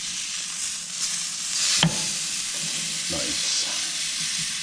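Steak sizzling on an outdoor grill near its last flip, giving a constant close hiss and crackle throughout, with a brief louder flare and a short spoken word from a man over it.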